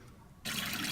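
Water for washing makgeolli ingredients switches on abruptly halfway through, a loud steady broadband rush of running water that continues to the end after a quiet start.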